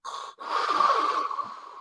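A voice imitates Darth Vader's respirator, a hissing breath: one short rasp, a brief gap, then a longer drawn, wheezy exhale, close and alone.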